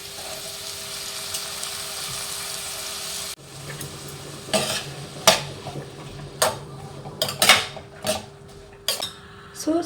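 Onion, tomato and beans going into a pan with coconut oil, a steady sizzle under a run of sharp metallic clinks and scrapes of a utensil against the pan, close and fairly loud, with no talk.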